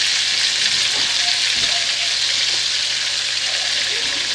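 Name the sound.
bacon frying in very hot grease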